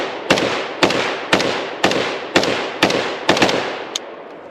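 Spanish CETME Modello Sport rifle firing about eight sharp, evenly spaced shots outdoors, each a loud crack with a short decay, the last one fainter and followed by quiet.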